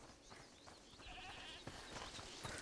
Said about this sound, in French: Écoutez, c'est la chèvre du monsieur.